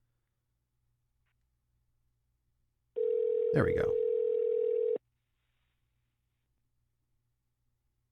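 A phone dial tone rings out as a call is placed to someone, one steady two-second tone set in an otherwise quiet room, followed by a brief spoken remark.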